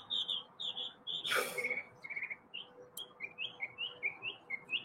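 Birds chirping outdoors in the morning, repeated short high tweets in a quick rhythm, moderately near, with a brief louder rustling burst midway and a faint steady background hum.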